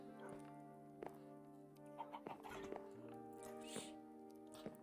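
Minecraft chickens give short, scattered clucks over soft, sustained background game music, a few brief calls spread across the stretch.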